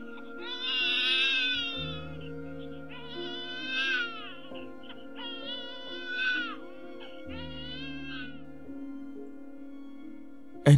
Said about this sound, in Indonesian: suara tangisan bayi membuat Endah tersentak